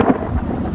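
A deep rumble of thunder from a cartoon thunderstorm, a loud, dense, continuous roll lasting under a second with no voices.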